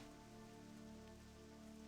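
Steady rain falls in World of Warcraft as a soft continuous patter, with a low tonal drone of game ambience beneath it and no voices.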